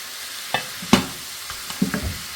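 Beef pieces hit a pan already holding star anise, beef cubes and rock sugar, making a few scattered sizzles and stirring scrapes, soft and close, with short bursts between quiet gaps.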